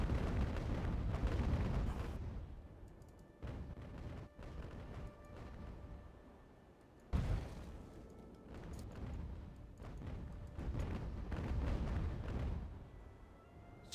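Ship cannons firing in the naval battle game Ultimate Admiral: Age of Sail, heavy rumbling booms rolling one after another with a sharp blast midway, steady battle noise throughout.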